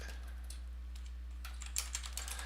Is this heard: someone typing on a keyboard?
yes